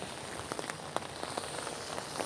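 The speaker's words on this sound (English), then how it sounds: "it's so loud, the raindrops" Heavy rain pattering loudly on an outdoor surface, dense irregular drops with sharper nearby splats throughout, no voices.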